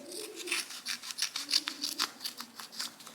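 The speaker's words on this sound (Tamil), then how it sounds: "நம்மளுக்கு தேவையான அளவுக்கு நம்ம கட் பண்ணிக்கலாம்." Scissors snipping through skin-coloured boob tape, a close, steady run of crisp cutting strokes and papery rubbing, repeated about every third of a second with no talk.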